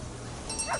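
A canine guard dog in the prison game Prison Architect: a brief, faint yip or bark near the end over steady low background hum.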